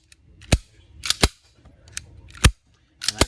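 Several sharp mechanical clicks from an RM380 pistol during a function check, with the slide racked and the trigger pulled and released after a reduced-power spring kit install, spaced irregularly and close up, with no talking.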